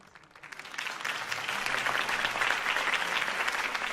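Loud applause from a large crowd in the video game Batman: The Telltale Series swells up within a second and then holds as a steady, dense roar of clapping.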